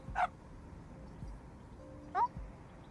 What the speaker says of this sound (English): the distinct, high-pitched sound of a dog's barking made her pause